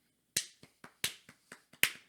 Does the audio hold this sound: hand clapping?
yes